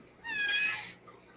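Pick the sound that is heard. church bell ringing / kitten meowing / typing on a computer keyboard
kitten meowing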